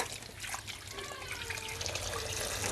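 Cold water poured over freshly boiled eggs in a home kitchen, a steady splashing trickle that runs continuously for a few seconds at close range, with no talking.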